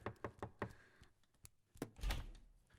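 Sharp knocks rap on a door in a quick run of about four, then a couple of isolated thumps follow, ending in a louder, muffled bang; close and clear with no talking.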